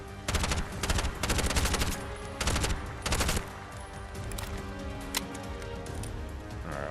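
Automatic gunfire in the video game Bright Memory: Infinite crackles in several sharp bursts over the first few seconds, then gives way to sparser single shots against a steady game soundtrack.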